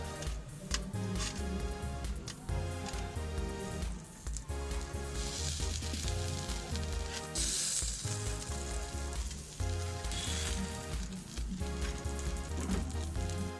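Tandoori chicken sizzles in a pan as butter is brushed on, a steady close crackling and hissing that carries on throughout with no talking.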